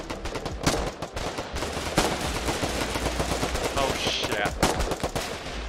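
Rapid machine-gun fire sprays infantry in a multiplayer shooter video game, a dense, continuous clatter of shots close up, while a voice briefly exclaims over it.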